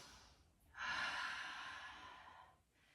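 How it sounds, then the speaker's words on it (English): A single long, deep breath drawn in during a gentle beginner yoga flow, a close, airy inhale that starts sharply and tapers off over about two seconds, with no talking. "Big deep breath."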